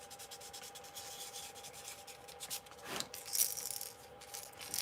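Sandpaper rubbed back and forth over the bill of a fishing lure during a stencil test, a steady close scratchy rasp that swells louder toward the end, with a brief small metallic clink.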